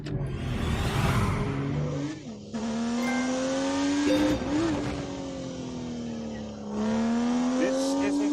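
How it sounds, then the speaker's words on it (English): A BMW M2 engine in The Grand Tour Game, loud and sustained, with its pitch climbing and dropping through gear changes, and tires squealing at moments. There are no spoken words. "The BMW M2. I have to drive the BMW."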